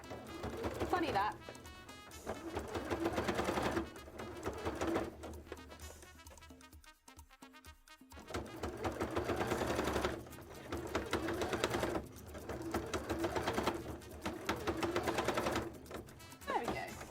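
A sewing machine doing free-motion embroidery to make tail frills, stitching in rapid rattling bursts with brief pauses between runs, close and fairly loud, with a voice talking over it.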